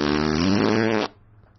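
A single loud, close fart sounds as a buzzing, rumbling burst of about one second that cuts off sharply, followed by quiet.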